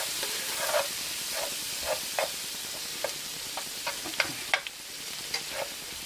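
Chopped onion fries in a pan for a chicken Dijon Parmesan dish, giving a steady close sizzle and hiss broken by irregular scraping clicks of stirring, with no talking.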